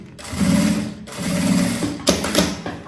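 A sewing machine stitches the front panel of a fabric handbag, running in two steady whirring bursts with a short pause and a mechanical clunk between, close and loud with no talk.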